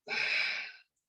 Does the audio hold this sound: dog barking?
no